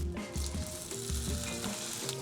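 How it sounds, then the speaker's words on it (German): Fish and bread fry in a generous amount of butter in a pan, a steady crackling sizzle with scraping and clinking of utensils over it, close and fairly loud, no talking. "Ich werde den Fisch anbraten, ich werde das Brot ein bisschen anbraten"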